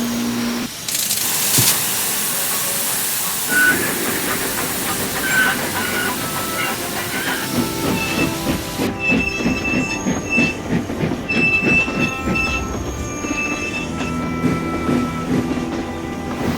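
Steam engines Donald and Douglas haul Thomas back onto the rails in Trainz TRS19, with loud continuous rumbling wheels, hissing steam and screeching, squealing rail noise throughout, no talk.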